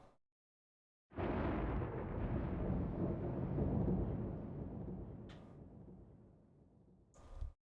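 Thunder in the Ys 2 game, a sudden loud rumbling roll that swells after a moment of silence and slowly fades over several seconds, with a brief hiss near the end and a final short crackle.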